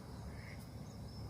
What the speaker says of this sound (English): so much bird life on here at the minute as well